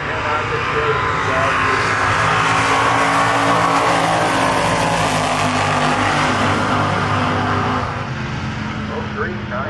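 Heads-up drag racing cars launch and roar down the strip at Milan Dragway, a loud sustained engine blast that fades slightly near the end, with a voice talking over it.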